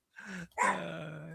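A dog lets out two short, low vocalizations close by, a brief growling grumble followed after a short gap by a longer rough, whining sound; no one speaks.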